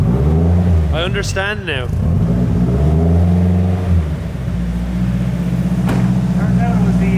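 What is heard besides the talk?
car engine revving with the throttle held open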